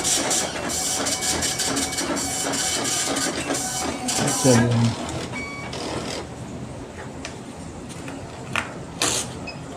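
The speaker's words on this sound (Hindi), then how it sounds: "प्रिंट करिए और देखिए आप हमारे प्रिंटर से आपको प्रिंट होने लगेगा।" A weighbridge slip printer runs with a dense, rattling mechanical buzz for about five seconds, then stops, leaving quieter background hum; someone speaks over it.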